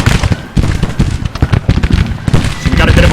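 Musket volleys crackle in Grand Tactician: The Civil War, a series of loud, ragged bursts of massed gunfire layered over one another, with a steady battle din between the shots.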